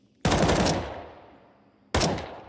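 Gunfire in Counter-Strike, fired through walls during a match: two sharp, loud bursts of rapid automatic shots, the first trailing off into a long decaying echo before the second burst cuts in.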